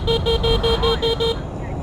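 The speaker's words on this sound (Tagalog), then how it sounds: "Binusinaan ko lang eh." Car horn honking at a car overtaking on a blind-spot road, sounded as seven short evenly spaced beeps in quick succession, loud and close, over steady road and engine rumble before fading out.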